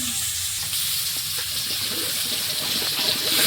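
Water gushes steadily into a cooking pot for duck meat, a continuous splashing and rushing close by that builds slightly toward the end, with faint kitchen clatter behind.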